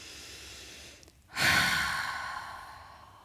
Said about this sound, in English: take an inhale and exhale out loud